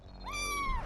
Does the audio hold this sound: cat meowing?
yes